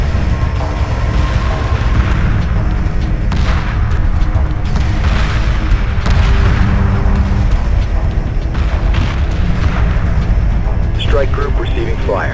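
Heavy weapons fire from a space battle in the Homeworld 2 Remastered strategy game: dense, continuous booming barrages and rumbling blasts, loud and sustained throughout, with a sharper burst near the end.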